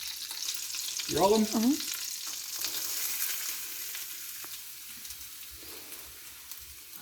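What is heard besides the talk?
shredded potato and onion frying in a hot skillet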